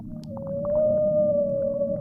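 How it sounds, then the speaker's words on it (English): Underwater, a whale lets out a sustained, high-pitched squeaking call, a clear wavering tone that swells and holds for about two seconds over low murmuring background noise. "If you haven't ever heard a whale before, it's kind of a high-pitched"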